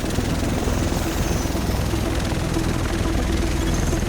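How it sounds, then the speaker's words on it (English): A helicopter idles on a helipad in the video game The Division, a steady, close rotor drone with low thumping that runs unbroken and fairly loud throughout. "make our way to a nearby helicopter pad to be transferred over to Manhattan"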